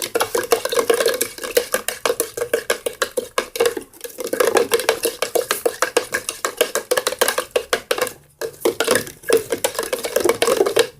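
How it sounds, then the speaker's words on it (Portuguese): A spoon clinks rapidly against the inside of a glass or cup while sugar is stirred into a homemade milkshake, a fast, even metallic tapping with two short pauses, close by and without talk. "já coloquei aqui e eu vou misturar agora"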